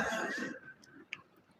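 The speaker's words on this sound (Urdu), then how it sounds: "ارے کھانس ذرا" A single close cough with throat clearing, then quiet breath and a faint small click.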